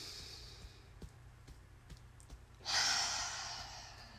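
A long, deep exhale during a slow yoga session, breathy and close, following a quiet stretch with a few soft clicks and faint breaths.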